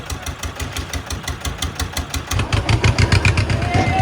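A motorboat engine runs on a trip back from Vasota, chugging in a fast, even rhythm that grows louder and heavier toward the end, with no talk over it.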